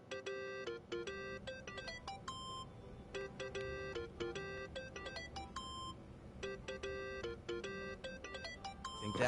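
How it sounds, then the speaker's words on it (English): A phone in the game Yakuza: Like a Dragon on PlayStation 5 rings with a repeating electronic melody of bright beeping tones in regular bursts, clear and continuous over a faint background hum. "Answer your phone."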